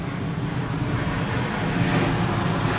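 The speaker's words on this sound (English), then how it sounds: "I don't know why that plane would be going to Wright-Patterson Air Force Base" An airplane flying overhead near Wright-Patterson Air Force Base in East Dayton, Ohio, a loud steady low engine roar filling the air, with no one speaking.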